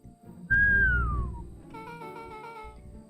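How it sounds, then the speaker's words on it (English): A low descending whistle from the video game Beacon Pines, one clear gliding note that slides downward, followed by a softer tonal musical passage underneath. "Low whistle."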